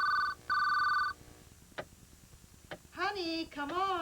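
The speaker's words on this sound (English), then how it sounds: "With Smart Ring from GTE, your phone can tell you who a call is for before you pick it up." Two bursts of an early-1990s GTE Smart Ring distinctive telephone ring, a short electronic trill then a longer one, clear and close, followed by brief knocks and a voice talking.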